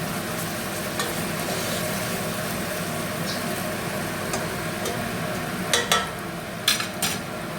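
Onion fries slowly over low heat in a pan, giving a steady soft sizzle with occasional stirring clicks and a few louder scrapes near the end.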